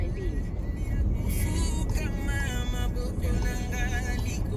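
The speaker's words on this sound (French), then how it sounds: "On est en train de conduire." Steady engine drone and road rumble from inside a car driving on a road, continuous and fairly loud, with faint talking and tonal sounds over it.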